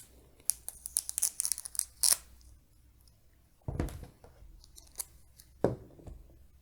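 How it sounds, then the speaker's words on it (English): An M4 bayonet slices and rips through packaging tape on a box, with rapid close snips and crinkles, followed by two heavier tearing strokes a couple of seconds apart, and no talking. "Let's take out the trusty old M4 bayonet"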